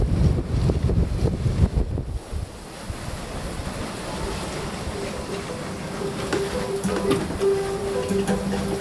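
Steady, loud wind roaring across a sailboat under reefed sail in a breeze at sea, mixed with the wash of waves and buffeting on the microphone throughout, with no voices.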